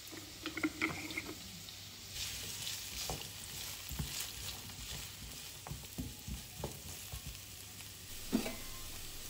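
Diced carrot and onion sizzle and crackle in oil in a pan while being stirred, with scraping and clinking of the spoon over a steady frying hiss.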